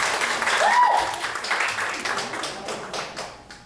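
A conference audience applauds to welcome a speaker on stage, a dense, loud burst of clapping that swells and then gradually thins out.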